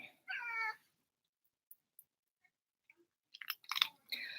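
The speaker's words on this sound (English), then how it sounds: "Okay, what's my kitty's name? Velvet." A cat named Velvet meows, a short clear call up close followed by quiet clicks and then a burst of chattering, chewing-like mouth sounds and another brief vocal cry, all in a quiet room without talk.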